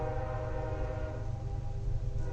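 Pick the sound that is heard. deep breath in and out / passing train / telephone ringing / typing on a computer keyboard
passing train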